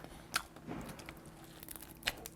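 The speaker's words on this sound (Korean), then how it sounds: "빵 끝까지 바삭합니다" Crispy bread with pumpkin and cheese bitten into, giving two sharp crunches about two seconds apart with quieter chewing between.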